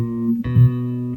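Bass guitar note fretted at the fourth fret of the G string, a low plucked tone that sounds once and sustains clearly with nothing else heard.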